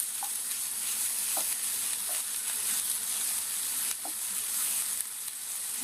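Onions and potatoes sizzle steadily in a pan, a constant hissing fry broken by occasional soft scrapes and knocks from stirring, with no voices.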